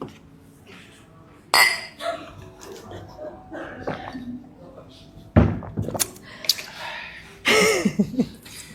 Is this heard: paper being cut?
no